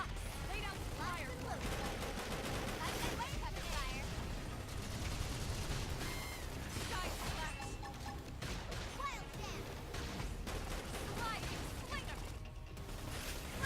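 Rapid gunfire and mechanical clatter in the video game Xenoblade Chronicles X, a dense, continuous barrage of shots and metallic ratcheting over game music, with a voice talking now and then.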